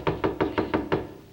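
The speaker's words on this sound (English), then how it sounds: "imagine that someone knocked on the door" Five sharp knocks on a door in a steady, evenly spaced rhythm, clear and close, set in an old TV comedy sketch about a butler.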